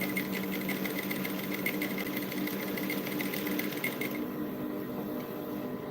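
A sewing machine stitches brocade fabric for a pleated dress, running in a fast steady mechanical whir with rapid needle ticking, close and continuous, easing slightly toward the end.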